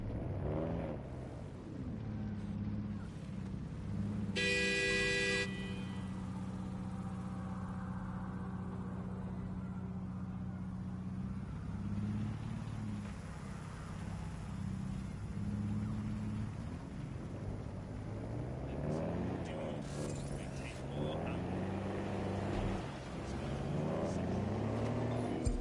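A car cruising on auto drive in the Watch Dogs video game, a steady engine drone with shifting pitch and road rumble, joined briefly by a bright electronic tone, with no talking.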